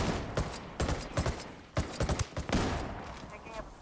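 A Ranger class rifle fires at enemies in Ghost Recon Wildlands, sharp separate shots spaced irregularly over a few seconds against steady background noise, close and fairly loud.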